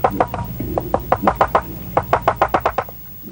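Walrus clicks: a dense run of sharp, evenly spaced knocking pulses, about a dozen in three seconds, fairly loud and close, over a low rumbling underwater background.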